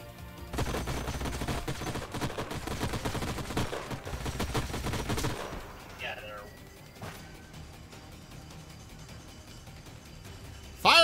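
Sci-fi gunfire from Age of Wonders: Planetfall, a turn-based strategy game: dense bursts of shots and crashes through the first half, then quieter effects, with a sharp loud hit at the end and a voice talking over it.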